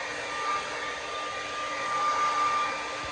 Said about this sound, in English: sorry my fan's on like always